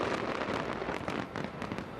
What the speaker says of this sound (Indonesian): setiap tahun pesta kembang api seperti ini bisa berlangsung hingga lebih dari 10 menit